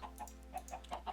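Minecraft chickens clucking on a chicken farm, a run of short, quiet clucks repeating every fraction of a second with no talk.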